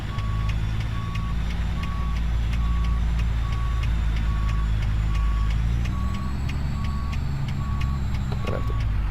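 A simulated American truck backs its trailer into position, its reversing alarm beeping in a steady, evenly spaced series over a constant low diesel idle rumble, with a short hiss near the end.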